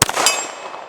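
A bullet strikes an 8-inch steel gong at a shooting range, giving one sharp metallic clang that rings on and slowly decays over the second.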